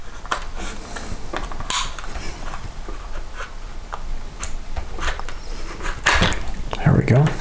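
A plastic shell is pried off the frame of a Walthers GP9 model locomotive, with close creaks, clicks and small snapping sounds spread unevenly over steady background noise.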